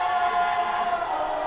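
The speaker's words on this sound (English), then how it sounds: "As you can hear the fans, mostly the kids, cheering on UNLV" A crowd of hockey fans, mostly children, cheers for UNLV at an ice rink, a sustained bright roar of many voices that stays loud and fairly even throughout.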